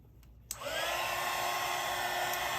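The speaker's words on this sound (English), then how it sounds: "let's dry this real quick." A hair dryer switches on after a brief click and runs loud and steady, drying iridescent pink pigment paint on paper with a constant high whine.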